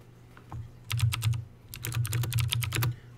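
Fingers tap a computer keyboard in two quick bursts of rapid clicking keystrokes, close and fairly loud, separated by a short pause, with no speech.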